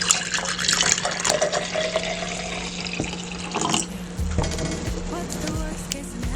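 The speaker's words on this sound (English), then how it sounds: "we're gonna fill 2/3 full of the blue drink" A blue drink such as Gatorade is poured into a glass, a steady splashing pour running most of the way through, with some faint voice underneath.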